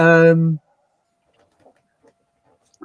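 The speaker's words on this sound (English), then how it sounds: "It's a Muppets Big Bird toy" A Muppets Big Bird toy sounds one short, voiced, cooing call lasting about half a second, followed by near silence broken only by faint handling clicks.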